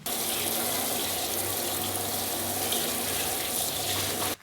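Tap water runs steadily into a sink while Commodore 64 computer parts are washed, a loud, continuous rushing splash with no voices, cutting off at the end.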